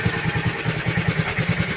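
A worn Heathkit Boonie Bike minibike engine with a bad clutch runs close by in a steady, lumpy low idle, its rough chugging pulses repeating evenly with a faint rattle on top.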